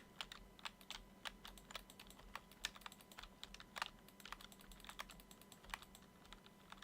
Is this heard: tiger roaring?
no